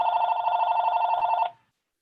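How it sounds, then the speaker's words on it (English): An office telephone rings with a steady electronic bell tone that holds for about a second and a half, then stops abruptly and leaves silence. "that's the phone here"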